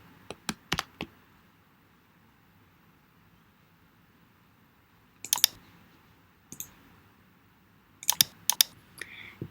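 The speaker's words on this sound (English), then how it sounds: "I'm just going to be typing this and skipping it." Scattered bursts of sharp keyboard clicks, a quick flurry at the start and more clusters later, over a quiet background hiss.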